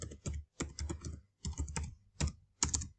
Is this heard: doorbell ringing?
no